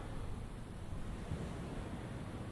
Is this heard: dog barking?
no